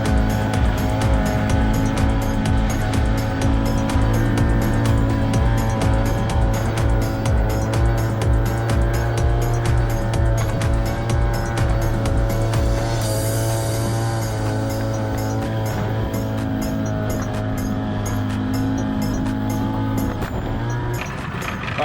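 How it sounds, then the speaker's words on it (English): A boat's outboard motor drones steadily and loudly while heading out across the Hauraki Gulf toward a spearfishing spot, with a constant low engine hum, wind buffeting and water rush throughout, its pitch easing slightly toward the end. "Often that motor noise from the boat will attract kingfish"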